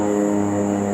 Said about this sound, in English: I even got planes out here